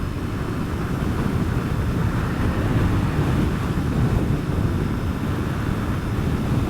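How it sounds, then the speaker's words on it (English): Steady, loud wind roar inside an Icon Variant Pro motorcycle helmet at about 87 mph on the highway, a dense unbroken rush with no talking. "so you can kind of hear what the wind sounds like"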